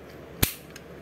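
A Bandai Gaburevolver toy dinosaur gun fires its shooting gimmick with one loud, sharp snap up close, followed by a faint click of its mechanism.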